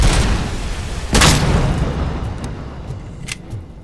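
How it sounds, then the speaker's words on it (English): A grenade goes off in RoboCop: Rogue City, one close, loud boom that rolls off into a fading rumble, followed by a few smaller pops and cracks. "He just threw a grenade while he was getting hit."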